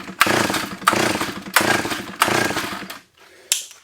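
A 45-year-old Solo 660 AV chainsaw, long unused, with poor gaskets and a carburetor fault, is pulled four times in quick succession; each pull brings a loud, rough, sputtering burst that dies, then a short final cough.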